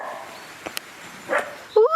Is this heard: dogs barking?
yes